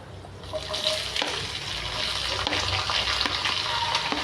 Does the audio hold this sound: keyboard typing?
no